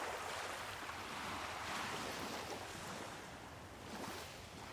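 Ocean waves crash and wash continuously at night, a broad steady roar of surf with slight swells in loudness and no voices.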